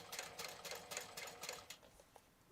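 A sewing machine stitches and back-stitches fabric for a pouch, quiet rapid mechanical bursts pulsing in a quick rhythm that slows and fades toward the end.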